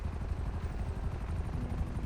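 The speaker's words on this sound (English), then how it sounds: "now we have a helicopter landing behind us" Helicopter landing nearby in GTA 5, a steady low thudding rotor drone with a rapid pulsing beat, loud and continuous throughout.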